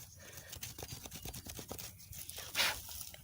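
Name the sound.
scratching a trench in a burning log for coals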